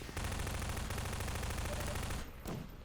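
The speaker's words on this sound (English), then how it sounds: "pick that up, and shoot them from a distance before going onwards" Dense, continuous automatic gunfire from enemies being shot in the Half-Life video game, a rapid loud stream of shots that stops abruptly, followed by one brief final burst.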